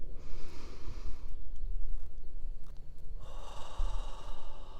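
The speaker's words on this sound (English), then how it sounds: "In through your nose. And out through your mouth. Take one more deeper breath this time." A slow, deep breath drawn in through the nose and then released through the mouth, close and audible, with a rushing hiss on the exhale and a second inhale beginning at the end.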